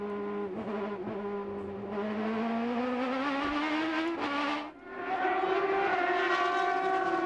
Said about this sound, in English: Beautiful sight, all those cars snaking through there.